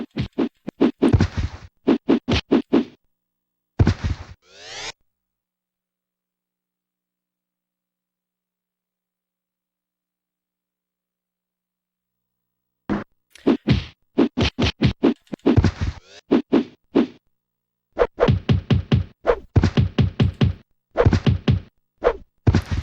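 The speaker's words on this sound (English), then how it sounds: "You're just thumping them with the sword." A sword lands dull thumping blows on enemies in Mutant Rampage: Bodyslam, quick clusters of hits in rapid bursts separated by a long silent pause, close and loud.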